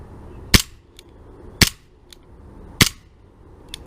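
Three sharp, loud snaps come from a Tanfoglio Witness 1911 CO2 blowback full-metal air pistol, spaced about a second apart, each followed by a fainter click as the slide cycles.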